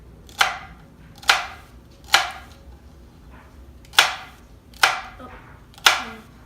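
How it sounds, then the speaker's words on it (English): A knife chops celery into small dice on a board: six crisp, sharp thuds spaced about a second apart with a short pause in the middle, close and clear with no talking. "with my knife and just cut this rib right in half, and then we're going to just start making little dices"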